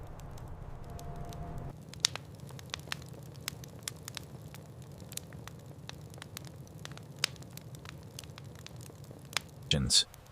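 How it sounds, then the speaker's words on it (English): A nearby wood fire inside a teepee on a cold night, giving sharp scattered crackles and pops over a low continuous hiss, steady and fairly quiet, with one louder burst near the end. "crisp crackling of a nearby fire is prominent and continuous"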